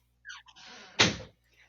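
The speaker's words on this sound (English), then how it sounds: "let me shut the door so he gets out of here" A door is shut with one loud, close thud after some brief rustling and shuffling, then quiet.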